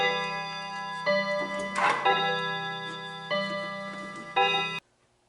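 A clock in a violin maker's workshop ticks steadily and close, with a low hum underneath and a few louder clacks, before the sound cuts off abruptly.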